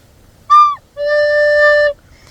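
A short higher chirp, then one steady recorder note D held for about a second, clean and close with no talking.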